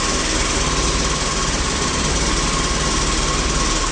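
The petrol engine of a hybrid scooter retrofitted with electric power runs at a steady buzzing drone, loud and close, with constant vibration and no change in pace.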